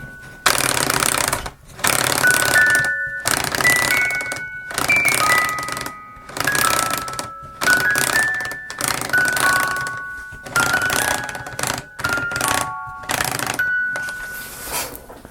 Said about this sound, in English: Hopefully, just a matter of working the gears into sync. It wants to go